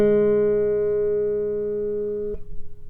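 A single guitar note rings on the third string fretted at the first fret, one clear sustained tone that decays slowly for about two seconds before being muted with a soft thump.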